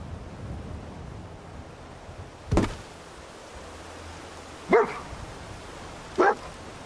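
A dog in Fallout 4 gives three short, separate barks spaced a couple of seconds apart, moderately distant, over a steady background hiss with no talking.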